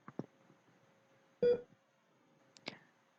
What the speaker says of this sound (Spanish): se escucharán 3 tonos en el buzzer